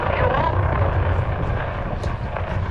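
An aerobatic airplane at an air show glides with its engine powered back and fuel cut, giving a steady whooshing airflow and a low fluttering drone from the windmilling propeller, loud and continuous throughout.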